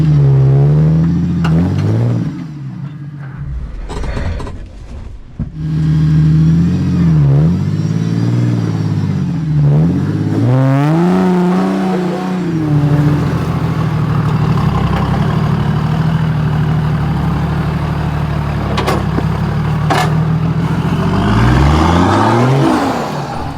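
A 4x4 engine labouring up a rock step on a rugged Watagan Mountains track, loud and close, rising and falling revs with whining, steady throttle surges and no talk.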